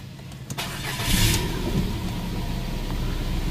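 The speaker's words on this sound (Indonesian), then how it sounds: "Setelah itu baru kita menyalakan mobil." A Ford Fiesta engine cranks briefly and catches, then settles into a steady idle, close and moderately loud with a faint rumble continuing alone.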